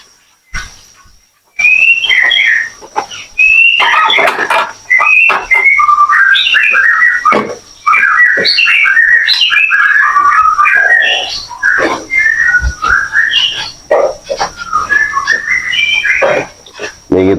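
Caged murai magpie robins in a breeding setup give loud, close, continuous whistling song, with varied rising and falling phrases, sharp chirps and brief pauses, over a faint steady hum.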